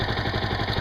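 A Yamaha YZF R125 motorcycle sits idling, its small single-cylinder engine ticking over in a steady, rapid, slightly rough chugging pulse, close and continuous with no voices.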